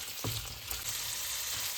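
Ingredients frying in ghee for paneer butter masala, a steady close crackling sizzle with a couple of soft stirring knocks.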